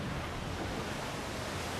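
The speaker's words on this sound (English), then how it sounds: "And once again, more gorgeous water effects as we make our way to our objective" Ocean water in Assassin's Creed 4 Black Flag, a steady, full wash of waves and surf mixed with wind rush, loud and even throughout with no pauses.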